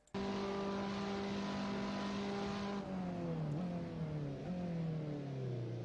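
A race car engine in a video game roars at a sustained high pitch, then its note drops and wavers as the car sweeps past a rival through a Nürburgring chicane. Loud and steady, with no voices.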